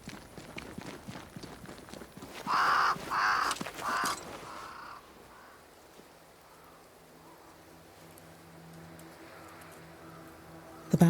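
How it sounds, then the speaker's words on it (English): Crows caw a few times in quick, loud bursts in the fantasy game Banishers: Ghosts of New Eden, followed by a quieter stretch of soft ambient rustle and patter. "Crows. They flock to that great tree up there."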